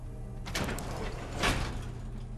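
A chained door being tried in the Fallout: London game, two quick rattling, clanking bursts a second apart against a low background hum.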